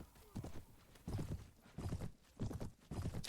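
Hooves clatter in repeated bursts as horses charge during a castle siege battle in the game Prophesy of Pendor, rhythmic clip-clop pulses fairly faint with muffled background noise.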